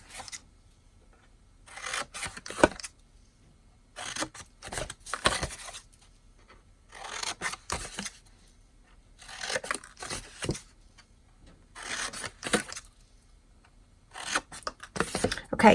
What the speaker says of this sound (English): now we're going to take the scissors and we're going to cut the corners out on all 4 sides